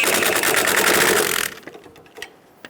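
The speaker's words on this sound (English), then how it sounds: "Using an 18mm wrench, hold the back of the sway bar link while using a 15mm socket to snug down the nut" A socket ratchets a 15mm nut down onto a sway bar link on a 2000-2007 Ford Focus front strut, a rapid buzzing run of clicks that stops abruptly and is followed by a few faint, scattered taps.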